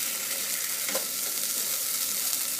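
Aloo gobi ingredients, potato and cauliflower, sizzle and fry steadily in a pan, a constant hiss with a faint stir or clink near the one-second mark, and no voices.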